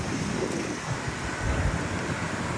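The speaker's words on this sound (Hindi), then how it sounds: "साथ ही हवा चल रही है बड़ी अच्छी, ये देखें" Steady outdoor wind roars and buffets the microphone near water, with a low rumbling rush that holds constant and loud before cutting off abruptly at the end.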